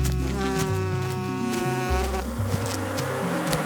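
A swarm of insects heading toward a hive, steady buzzing drone layered over background music, continuous for the whole stretch.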